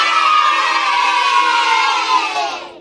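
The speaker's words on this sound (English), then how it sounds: "May I hear a loud yell first?" Loud crowd of many voices yelling and cheering at once, a dense sustained roar lasting a few seconds before quickly fading out, played as a sound effect.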